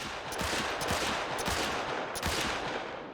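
Rolleston .45 handgun fired five times as fast as possible in theHunter: Call of the Wild, giving loud, close, rapid shots that blur into a continuous booming burst with no talking.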